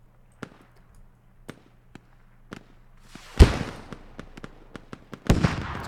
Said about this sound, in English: Just some rockets getting down.